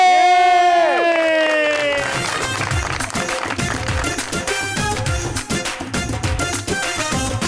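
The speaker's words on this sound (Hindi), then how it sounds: "प्लीज आपकी भरपूर तालीमें" On a TV show, a rising musical sting gives way to loud cheering and clapping from the studio audience as a female singer makes her entry, the crowd noise sustained and energetic.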